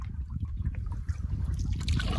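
Water gurgles and trickles as a bottle is filled from a lake on a solo fall canoe trip, an uneven, bubbling flow heard close up against low rumbling background noise.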